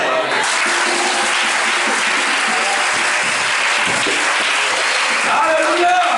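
A church congregation applauds with dense, sustained clapping that fills the room at full volume, crowd voices mixed in, fading slightly near the end.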